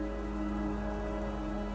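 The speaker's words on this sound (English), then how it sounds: "watching the rain fall down" Steady rain falls during the wet season, a constant, even hiss of drops with no pauses or other sounds over it.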